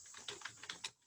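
Quick keystrokes on a computer keyboard as a short program command is typed, a handful of sharp clicks in an uneven rhythm, close and fairly quiet with no talking.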